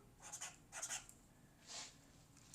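Marker strokes squeak and scratch across a whiteboard in several short, quiet bursts with pauses between them, close by and with no speech.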